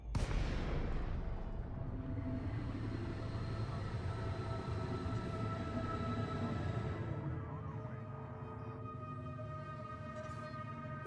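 A spaceship drops out of cruise in a space video game while building a Coriolis station: a loud, steady mechanical roar with tonal hums that shift and settle partway through, and no one speaking.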